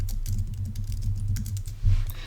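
Rapid clicking of a computer keyboard as a page name is typed, a close, continuous patter of keystrokes with a slightly heavier press near the end.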